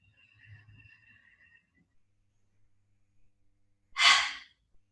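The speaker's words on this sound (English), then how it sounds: "And then exhale. Quick burst of air." A single sharp, forceful burst of exhaled air during yoga breathing, close and clear, following a few seconds of near silence with faint low rumble.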